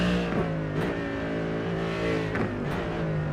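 Race car engine at Imola in a GT3 endurance sim racing game, revving steadily with harmonic tones that rise and fall through gear changes, loud and continuous with no talk.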